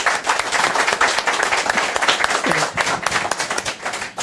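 An audience claps and applauds steadily for a speaker, a dense, sustained patter of many hands at close range, with faint voices mixed in.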